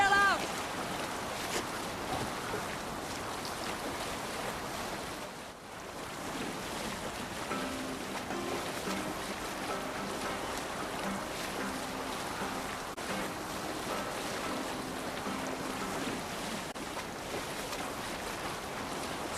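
Viking longship at sea in Assassin's Creed Valhalla, with steady wind and rolling waves washing around the hull throughout, faint voices and background music underneath.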